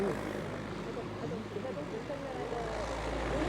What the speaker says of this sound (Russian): Вот, готовится к взлету, точнее уже взлетает еще один туристический самолетик.